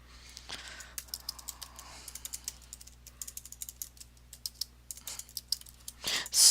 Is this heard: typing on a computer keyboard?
yes